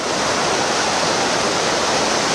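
A rushing brook flowing hard against and under its eroding bank, a loud, steady broadband roar of churning water up close with no pauses.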